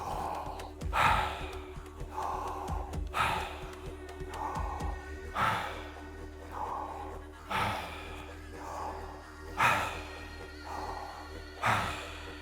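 Slow, deep breathing in a guided relaxation exercise: about a dozen long, airy breaths, in and out in a steady rhythm, close and clear over a faint low hum, with no talking.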